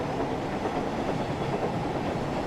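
Train Sim World 5 locomotive rolling toward a station platform, a steady loud rumble of wheels and rail noise with faint clickety-clack throughout.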